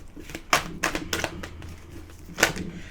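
Psychic Tarot cards are shuffled and handled, giving several sharp papery flicks and riffles spaced apart over a soft background, close and fairly crisp, with no talking.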